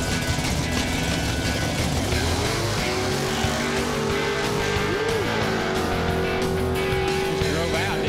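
A drag racing car makes a pass, its engine roaring loud and continuous at full throttle, with a rising whine building partway through and faint crowd noise underneath.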